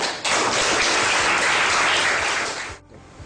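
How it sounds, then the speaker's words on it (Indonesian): Classroom applause for a student at the board, a dense burst of many hands clapping together for about two and a half seconds before stopping abruptly. "Aplaus buat temanmu yang maju."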